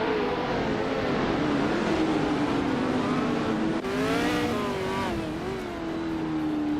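Formula 5000 race cars roaring around the Zandvoort circuit, a loud sustained engine wail that rises and falls as cars shift and pass, with a second engine sweeping through near the middle.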